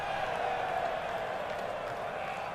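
A video game stadium crowd in FIFA 21 career mode gives a broad, sustained murmur and cheer at moderate distance, steady throughout with faint applause mixed in.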